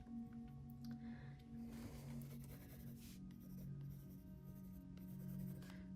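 A pen scratches steadily across paper while drawing an elephant's second ear, a continuous soft scribbling of short strokes, close and quiet under a faint background hum.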